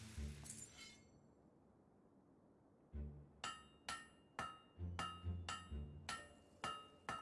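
Hammer blows ring out on a blade laid on an anvil during blacksmithing in Fable 3: after an early clink and a short pause, about nine sharp metallic strikes land in a steady, fairly even rhythm, each leaving a bright ringing tail.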